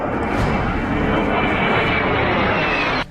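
An Indian MiG-21 fighter jet roars loudly and steadily, a dense close engine rush that holds for about three seconds, then cuts off abruptly.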